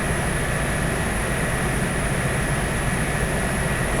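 Steady, loud engine and rotor roar of an Airbus H145 helicopter in flight in the X-Plane 11 simulator, a dense unbroken drone with a constant high whine on top and no voices.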